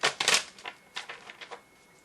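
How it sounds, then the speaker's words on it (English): Tarot cards being shuffled up close: a quick flurry of crisp riffling flicks, then several softer, separate snaps that trail off. "I'm going to shuffle the cards a little more and pull a couple more"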